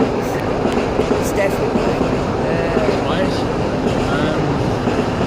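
Train noise rumbling past as a steady, loud wash throughout, with people chatting over it.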